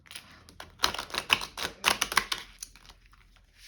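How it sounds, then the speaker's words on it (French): Oracle cards shuffled by hand, a run of crisp riffling and slapping bursts in irregular clusters, close and moderately loud with no talking. "Elles sont déjà battues les cartes, mais je les rebats quand même un petit peu"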